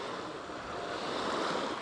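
Sea waves wash continuously along the Corsican coast, a broad steady surf roar with some wind buffeting the microphone, no voices present.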